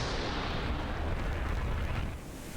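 In DCS World, a missile launches from a ship's vertical launch system as a loud, dense roaring blast that holds steady and then tapers slightly at the end.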